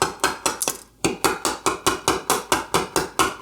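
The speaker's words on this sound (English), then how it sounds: "I'm just going to tap away this material until I've gotten to the point where I can drop this chisel right into that wheel gauge mark" A steel chisel tapped with a mallet to pare away wood for a desk's triple tenon joint, a steady run of about thirteen sharp, close knocks in even rhythm with one brief pause near the start.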